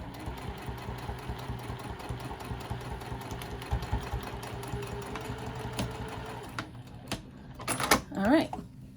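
A sewing machine back stitching a patchwork bag hums in a steady run for several seconds, then stops; fabric handling noises and brief talk follow near the end.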